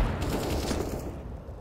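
Gunfire in a CS:GO match on Vertigo, shots fired through a smoke grenade, heard as a dense, fairly loud rattle of rapid shots that fades slightly toward the end.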